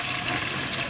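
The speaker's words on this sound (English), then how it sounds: "And then to that I'm just going to add some water." Water poured from a container into a bowl of dissolved jelly-like stock, a brief, steady splashing gush heard up close.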